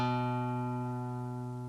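A single acoustic guitar note, fretted at the second fret of the second string, rings out clearly and alone, decaying slowly with a steady sustained tone.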